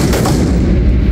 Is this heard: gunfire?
yes